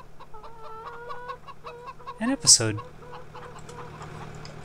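Chickens cluck in Farming Simulator 17 with the Seasons mod, soft repeated clucks under a steady farm ambience, with one sharper squawk midway and someone talking briefly.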